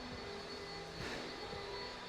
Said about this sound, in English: That vacuum is so fucking loud, but won't be on forever.